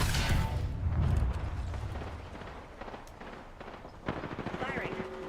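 Gunfire in the video game Apex Legends comes as dense, rough bursts of shots mixed with game effects and radio-style callouts, loud at first and then continuing at a lower level.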